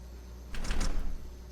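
A locked door being tried in Resident Evil 0, a short burst of rattling handle and latch noise lasting about half a second, fairly close and alone.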